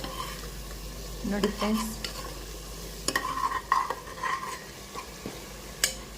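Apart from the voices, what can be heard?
stirring pulao masala frying in oil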